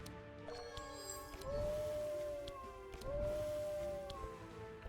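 In the card game Across the Obelisk, the Piercing Howl card gives two drawn-out howls, each rising then sliding down, heard over soft game music and chimes.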